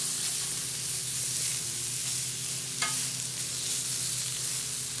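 Cut potatoes fry in butter and oil on a Blackstone griddle with a steady, close sizzle, and a single brief scrape is heard partway through.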